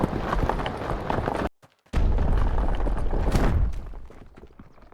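A rock monument rises from an earthbending spell in the VR game Blade and Sorcery: dense rumbling and crunching stone, a brief silent gap, then a heavy boom and more grinding rubble that slowly fades.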